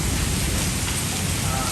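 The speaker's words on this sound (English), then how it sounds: "And rain." Steady rain hissing on a surface, a dense, even wash of drops that holds at the same level from start to finish with no break.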